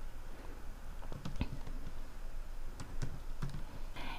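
Keys clicking on a computer keyboard while text is typed into video editing software, a few scattered taps and short bursts close by over a steady room hum.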